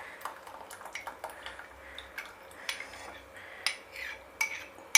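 A spoon clinks and scrapes in a pan while a coconut milk, mustard and maida mixture is stirred into mushrooms, with light, irregular metallic taps over a quiet background.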